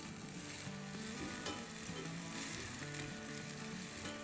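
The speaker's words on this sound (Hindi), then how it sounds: "बेसिकली हमको ऑयल को भी इन्फ्यूज़ करना है इन हरी मिर्चों और लहसुन के साथ" Green chilies and garlic sizzle in hot oil, a steady crackling hiss that stays even and continuous throughout, close and alone with no talking.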